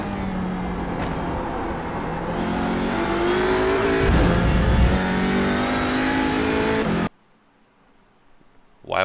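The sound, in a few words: race car engine at full throttle in a racing video game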